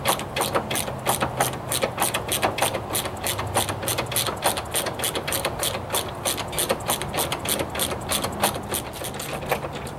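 Hand ratchet loosening front strut bolts on a Traverse, Acadia, Enclave or Outlook crossover, a steady run of quick metallic clicks repeating close up for the whole stretch, loud and without talk.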